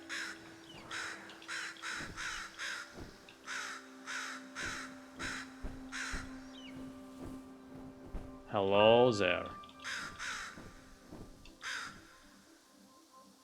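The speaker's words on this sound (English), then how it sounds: "This is how you become a crow." A crow caws in the video game Feather, sharp repeated calls over a steady music bed, with one louder warbling cry near the end and a brief spoken greeting in the mix.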